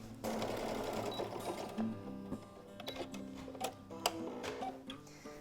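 A sewing machine stitches a denim tablet sleeve closed, with an opening burst of steady whirring followed by irregular ticks and clicks as the stitching slows and stops. The sound is close and moderately quiet, with no voices.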